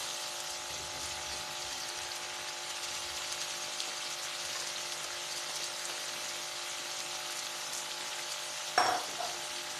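Potatoes frying for aloo gobi with cauliflower going in, a steady close sizzle running throughout, then a brief louder clatter near the end as something is stirred or added.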